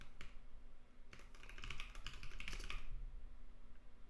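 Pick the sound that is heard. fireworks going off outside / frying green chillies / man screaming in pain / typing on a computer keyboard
typing on a computer keyboard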